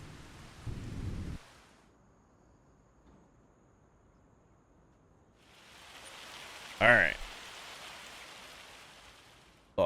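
Rain and a hailstorm in the Farming Simulator 25 video game, a soft steady hiss of rainfall with a low rumble early on, swelling later, while someone speaks briefly and occasionally.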